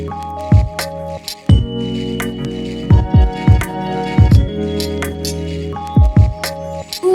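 Pet water fountain running as filtered water trickles back down into the bowl, with small splashy drips and squishy gurgles at irregular intervals over a steady low hum, close up with no talk.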